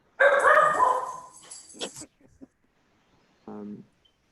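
A dog barks and whimpers during a zoning board meeting, a loud, drawn-out yelping bark followed by a few softer yips, with a short clipped bark after a pause.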